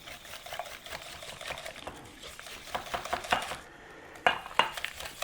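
A whisk clicks and taps rapidly against a bowl while mixing a cake batter of eggs, flour and sugar, with irregular bursts of scraping strokes, close and fairly quiet, with no talking.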